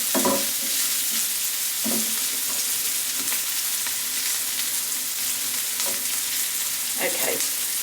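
Chorizo frying in a pan as its oil renders out, a steady close sizzle with a few brief stirring scrapes and clatters, no talking.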